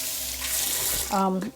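Water runs steadily from a tap for rinsing lamb's wool glued to a grooming tool, a close, continuous broadband rush that ends in a brief higher splash or rattle.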